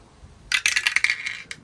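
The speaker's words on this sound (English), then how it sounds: "what I might do is actually roll the dice and see what the dice says" Dice are rolled, making a quick burst of bright clattering rattles on a hard surface that tumble for about a second, followed by one last small click.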